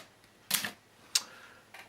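A few sparse keyboard keystrokes: one sharp cluster, a single crisp click, then a faint tap, with pauses between, as someone pecks with the left hand and touch types with the right.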